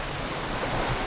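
Waves washing onto a Great Lakes beach on a warm day, a steady broadband surf wash with light wind rumble, continuous and fairly close with no voices.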